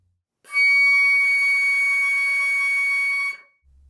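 Flute sounding a high C sharp / D flat in the fourth octave, one steady piercing tone held for about three seconds, then cut off, close and solo.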